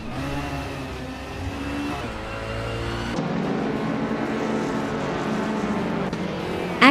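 Race cars, among them a 2006 BMW 320, roar steadily with engine drone rising and shifting as they pass, a continuous loud motor noise with no talking.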